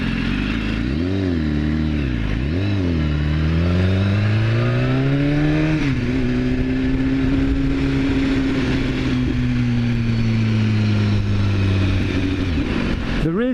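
A 2015 BMW S1000RR ridden at speed: a loud, continuous engine drone with rising and falling pitch as the rider works the throttle, over heavy wind rush.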